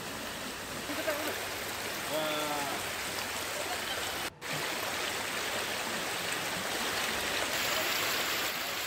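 A river flows after a flood, a continuous broad rushing wash of water heard steadily throughout with a brief dropout midway, while a voice speaks faintly early on.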